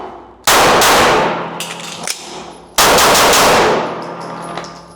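Two rapid bursts of handgun shots fired during a fast shooting drill at a range, each a dense, loud string of cracks with ringing tails, separated by a short pause.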